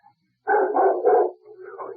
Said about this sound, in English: A dog barked 3 times.